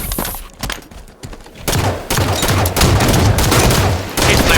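Rapid assault rifle bursts in a video game, loud clustered shots in quick volleys after a quieter opening moment, with a few sharp single cracks early on.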